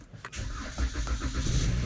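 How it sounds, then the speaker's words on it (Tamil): A car engine starting in Saudi Arabia, a short cranking burst that catches into a steady low running rumble, close and fairly loud, with no talking. "நாங்கள் வண்டியை ஸ்டார்ட் பண்ணுவோம் ஃபஸ்ட்டு"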